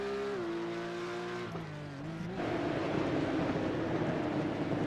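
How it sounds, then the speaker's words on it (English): Porsche GT3 Cup race cars howl through the hills at Spa Francorchamps, engines singing at high pitch and shifting through gears before a dense, loud roar of the pack takes over. "Enjoy the nice, wonderful singing Porsches as they run through the hills."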